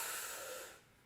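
Breath pushed out by a group doing a breathing exercise together, a broad airy hiss that is steady, then fades toward the end.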